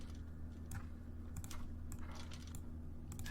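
Typewriter keys clatter in the puzzle game The Room Two as a word is spelled out, a few quiet scattered clacks over a steady low ambient drone.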